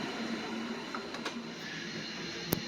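A large-format printer runs while printing floor graphics onto 48-inch-wide material, giving a steady mechanical hum and whir with a few faint clicks and one sharp tick near the end, heard alone at low level.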